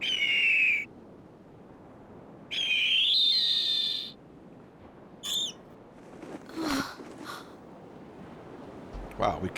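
Bird squawks and shrill whistling cries from the Suikoden IV video game come in bursts, followed by short sharp hits and clatter, with a voice talking over parts.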